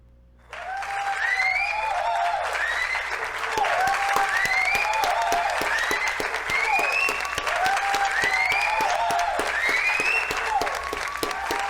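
Sudden burst of applause from a crowd, steady and loud, with high whistles and whoops repeating over the clapping throughout.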